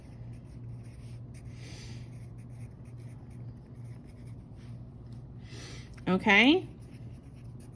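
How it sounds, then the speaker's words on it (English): Marker or pen scratching across a board or paper during a math lesson, soft rustling strokes running faintly through most of the stretch, with a brief spoken word near the end over a low steady hum. "I'm writing the word estimate so that we know those are just estimates"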